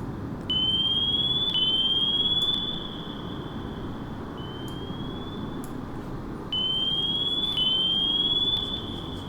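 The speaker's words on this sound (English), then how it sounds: "he's kicking out noisemakers" Sonar picks up submarine noisemaker countermeasures in the naval game Sea Power as repeated steady electronic tones, each rising slightly and holding for a couple of seconds, over a low hum with no voices.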